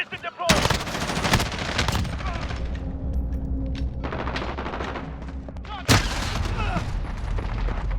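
Call of Duty: Vanguard gunfire: close, loud automatic bursts hammer almost continuously, with sharp fresh volleys breaking out near the start and again late, over a faint background of game voice lines.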